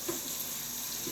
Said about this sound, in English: I'm going to run my hot water through there